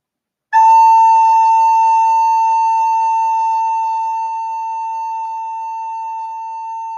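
A single steady recorder note A, held for about six and a half seconds alone, clear and pure with a bright, slightly whistly tone that fades gently toward the end.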